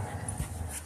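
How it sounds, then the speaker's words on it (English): A young female dog named Delilah growls while tugging at a tug-of-war toy, a low, rumbling, continuous growl with a few rougher swells, close by and fairly quiet. "That's a pretty big growl"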